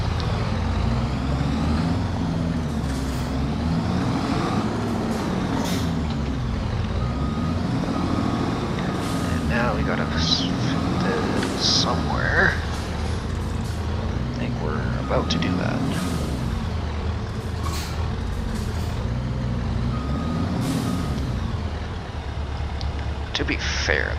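A Farming Simulator 25 truck maneuvers a trailer in reverse on the Elmcreek map, a constant engine rumble with shifting pitch, faint beeps and air-brake hisses, while someone talks over it throughout.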